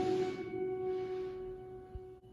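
Guitar notes plucked on the second string at the seventh fret ring out clearly and close, sustaining and slowly fading, with no voices over them.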